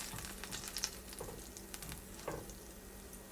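Southern fried apple pies sizzling in a pan over low heat, a steady soft crackle and spatter that runs throughout with no talking.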